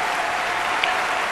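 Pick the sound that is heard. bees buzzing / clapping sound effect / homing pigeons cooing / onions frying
clapping sound effect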